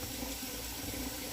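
A kitchen tap runs steadily while dough is being shaped, giving a faint, continuous hiss of flowing water with no talking.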